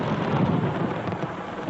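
A night thunderstorm over Jerusalem brings a loud, continuous rumble of thunder layered over steady, heavy rain, with no voices.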